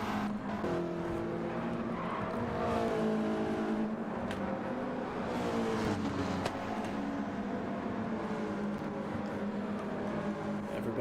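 Race cars in Gran Turismo 7 running nose to tail in a slipstream pack around the Piedmont track, a steady, loud blend of engine drone and shifting revs with no pause.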